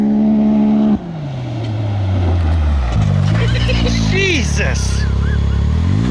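A Can-Am X3 or Polaris RZR off-road car roars close by, its engine dropping into a lower pitch and then rising through loud revving shifts, while someone briefly exclaims over the noise.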